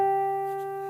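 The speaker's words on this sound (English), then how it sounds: "we end our tab on the 12th fret of the G string" A single guitar harmonic chimed at the 12th fret of the G string rings clear and bell-like, sustaining steadily and fading slowly across the whole second with no talk.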